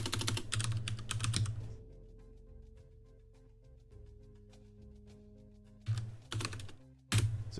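Rapid clatter of computer keystrokes in short bursts at the start and again near the end, with a quieter stretch between carrying a low steady hum and a faint tonal drone.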